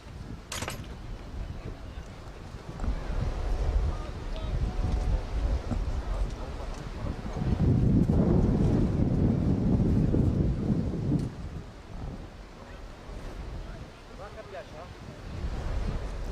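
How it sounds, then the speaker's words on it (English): Wind blows across an outdoor football pitch during a match between Upfield SC and FC Clifton Hill, a loud buffeting roar against the microphone that swells midway and eases, with voices faintly underneath. "The wind's certainly not getting much, if not remotely any better."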